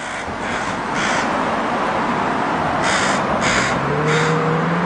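Crows caw repeatedly on a street corner at Granville and Balfour, several harsh calls in quick bursts over steady outdoor noise and a passing car, fairly near and loud.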